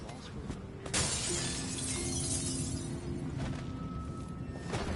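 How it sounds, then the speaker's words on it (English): Glass shattering inside the stealth video game Dishonored 2, a bright burst of breaking panes near the start with game ambience and a low hum continuing underneath. "That sounded like broken glass."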